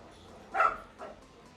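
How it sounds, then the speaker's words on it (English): Two short barks from dogs somewhere in a house, one sharper then a softer one, faint and some distance away over low room hiss. "Sorry, my dogs are going crazy."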